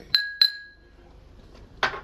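Two quick bright clinks of glass touching in a toast, ringing briefly, followed by a softer knock of glass being set down in a quiet room.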